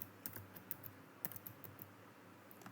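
Computer keyboard keys are pressed while working in STATA statistics software, ending with Enter: a quiet, irregular run of light plastic clicks close by, some in quick clusters and others alone, with no voices.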